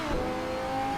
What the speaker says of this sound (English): the engine just blaring in your face